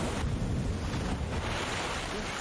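Big ocean waves surge and crash around a small, barely working lifeboat in the film Cast Away, a broad roaring wash of surf and wind, loud and continuous.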